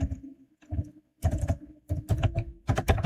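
Someone types on a computer keyboard, making bursts of close clacking keystrokes separated by short pauses.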